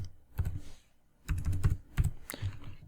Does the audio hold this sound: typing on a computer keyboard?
yes